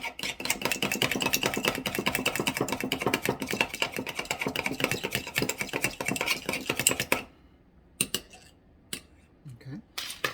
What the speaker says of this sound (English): And I'm just going to beat the egg up